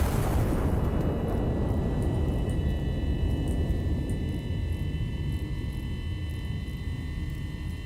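A heavy artillery shot and shell blast in the war game Iron Nest, a deep loud boom at the start that decays into a long sustained rumble, no talking.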